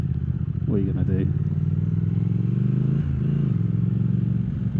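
A Triumph Thruxton TFC motorcycle engine runs loud and steady close by, its pitch climbing and dipping as it revs, with a voice speaking over it.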